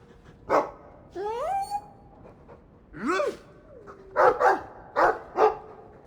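Dog in the video game Dragon Age II, giving a run of separate barks and yips, about six or seven short loud calls with some whining pitch bends, close and clear with no talk.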